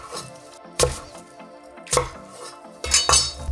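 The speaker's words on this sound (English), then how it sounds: "From here, we can just chop this into manageable sized pieces" A knife chops cooked pot roast into pieces on a board, with three or four firm, close thuds spaced about a second apart over a steady background hum, no talking.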